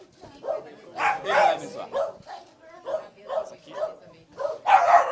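A small dog, the mascot of a committee, gives a series of short yips and barks at a press event, mixed in with someone speaking nearby.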